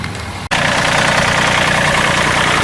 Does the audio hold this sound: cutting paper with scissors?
no